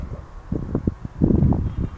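Strong wind gusting against a microphone, with low rumbling buffets and rustling that swell and fade unevenly over two seconds.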